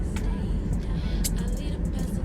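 A car drives along with a steady low engine and road rumble filling the cabin, close and constant, with a few faint higher noises over it.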